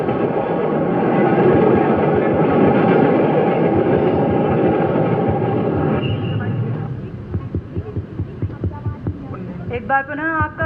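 A train sound effect rumbles loud and steady to mark the send-off of the Unnayan Express at a university freshers' welcome celebration, then gives way to crowd noise and scattered claps.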